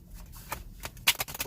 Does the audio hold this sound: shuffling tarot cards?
yes